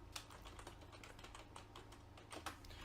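Rapid typing on a computer keyboard, with a steady stream of close, crisp key clicks in an uneven rhythm over a low constant hum.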